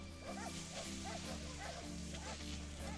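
Sled dogs yip and bark in a steady, repeated rhythm, several short calls per second over a droning low background, at moderate distance and somewhat muffled, with no talk.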